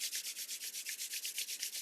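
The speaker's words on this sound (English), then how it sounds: "Palming, rub, rub, rub, rub," Palms rubbing briskly together during a breathwork exercise, a steady run of about fifteen even, soft swishing strokes in quick rhythm, close and alone.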